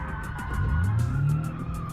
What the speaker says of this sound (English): let me do a sick U-turn in this thing